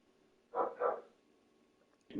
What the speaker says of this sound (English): My dog's going off it.